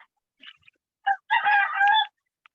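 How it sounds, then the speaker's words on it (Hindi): A rooster crows loudly nearby in a school compound, a short squawk followed by a drawn-out, strained crow with a few faint clucks around it and no talk. "ये मुर्गा बड़ बोली है"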